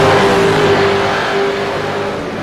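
Race cars accelerating through a corner in a motor race, a loud steady engine roar with a rising whine, close and continuous without talk.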